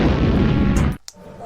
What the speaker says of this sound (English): What comes after X? Explosion.